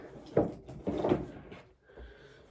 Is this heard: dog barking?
no